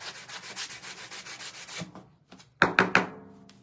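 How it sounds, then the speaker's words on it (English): Sandpaper rubs back and forth across a wooden board in a quick, steady scraping rhythm, then stops, followed by a few sharp thunks of wood being set down or tapped. "We're going to sand it down."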